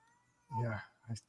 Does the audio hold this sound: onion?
no